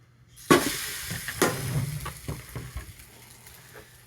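Thick Texas toast cooks in a pan, starting with a sharp burst of sizzle as it hits the surface, another jolt a second later, then a softer crackling fry with spatula scrapes and taps.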